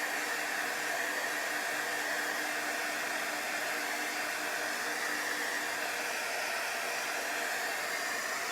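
A hot heat tool blows steadily to dry chalk paste on a craft transfer, a constant airy whoosh with no breaks for the full length, fairly quiet and alone.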